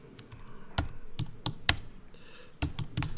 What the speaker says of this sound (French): Vous tapez un titre.